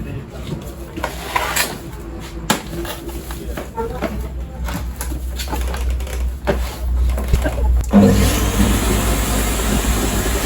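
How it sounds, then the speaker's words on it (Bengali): An original Samsung carpet cleaning machine starts up partway through, its motor settling into a steady broad whirring hum after clicks and handling noises, while someone talks over it. "এই যে এগুলো হচ্ছে অরিজিনাল স্যামসাং এর কার্পেট মেশিন"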